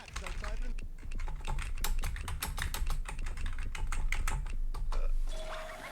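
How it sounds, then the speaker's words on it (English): Rapid, uneven keyboard typing clatters throughout, steady keystrokes close to the listener with a faint electronic tone near the end. "Start typing."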